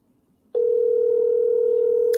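A telephone tone sounds while a call is being placed, a single steady electronic hum that starts abruptly after near-silence and holds unbroken to the end, loud and close.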